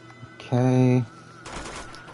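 Gunfire in the video game Uncharted 2: a loud half-second automatic burst with a sustained tonal ring, followed by quieter crackling shots, with no talk over it.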